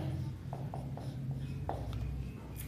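Pen writing an answer on paper, a faint scratchy scribble with a few light taps over a steady low background hum, close but quiet, no voice.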